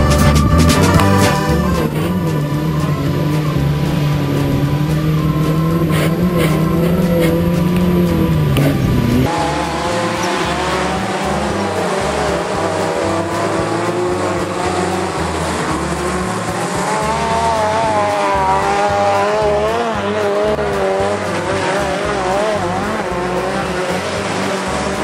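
Race cars tear around the Swarte Cross autocross track at Blije in 2011, with loud, continuous engine roars rising and falling as they pass and tires squealing through the bends.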